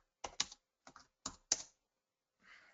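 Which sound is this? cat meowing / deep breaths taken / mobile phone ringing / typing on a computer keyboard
typing on a computer keyboard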